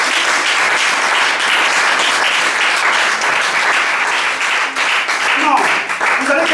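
A church congregation applauds loudly and steadily, with voices cheering and calling out through the clapping.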